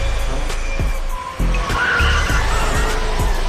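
Racing cars speeding past with skidding tires, loud and close, with a rough engine roar and sharp repeated skid and impact transients through a few seconds.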